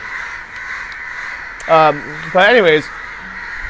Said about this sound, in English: I think the crows are fighting against each other for some reason.